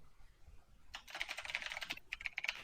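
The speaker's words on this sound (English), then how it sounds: "Yeah, because Henry was typing." Rapid clicking of keys on a computer keyboard, starting after a quiet moment and continuing in uneven bursts, heard close with no speech over it.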